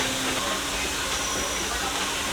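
A steady, loud rumbling hiss fills a ride aboard the Disneyland Main Street Station train, with constant motion noise and no clear breaks.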